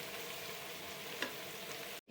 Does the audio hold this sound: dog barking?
no